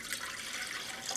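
Lukewarm water pours steadily into a bread machine pan, a soft, continuous splashing trickle heard close up with no talking.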